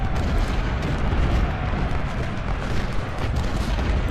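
Continuous rumbling barrage of artillery and gunfire in the Ultimate General: Civil War battle at Malvern Hill, dense overlapping booms at steady loudness without pause.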